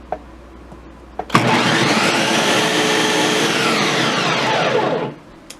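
A blender runs on high, pureeing chickpeas for hummus: a loud, steady whirring roar that starts abruptly, holds for several seconds, then cuts off, with no voices.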